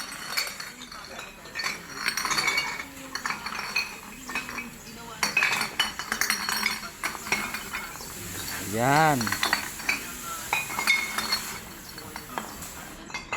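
Glass bottles and tin cans clink and rattle at a large junk shop, a busy scatter of bright knocks and chinks running throughout, with voices talking over them.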